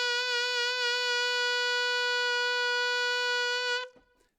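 A single sustained alto saxophone note, G sharp in the upper octave, held steady and loud for nearly four seconds, bright and reedy, then cut off abruptly into silence.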